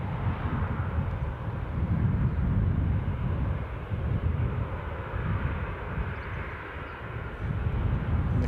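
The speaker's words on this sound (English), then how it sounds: "our next arrival will be a British Airways flight number BA1334 A319 coming from, you guessed it," A British Airways A319 airliner arriving at Newcastle airport gives a steady, fairly loud jet roar with rumbling low end, continuous for the whole stretch with no voices.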